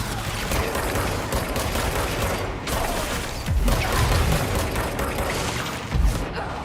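Rocket launcher fire and explosions in the game Control, a dense, continuous barrage of booming blasts and mechanical clatter with heavier low thumps near 3.5 and 6 seconds, no talking.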